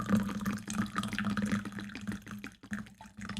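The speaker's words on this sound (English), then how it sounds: "It's probably better to speak when the tea isn't pouring." Tea pouring into a cup in a steady, close liquid stream that runs for about three seconds, with a brief break near the end.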